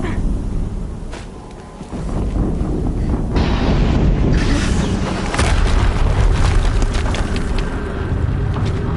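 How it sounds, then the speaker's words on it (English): Explosions in the video game Horizon Zero Dawn, heavy low booming blasts that swell and rumble over several seconds, loud and continuous with crackling debris and no talk. "Another explosion."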